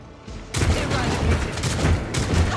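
Gunfire in Warhammer 40000: Rogue Trader, a sudden loud burst after a quiet start, then a dense stretch of booming shots and rumble that swells and pulses for about two seconds.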